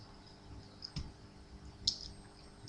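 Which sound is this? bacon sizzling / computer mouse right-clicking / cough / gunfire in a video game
computer mouse right-clicking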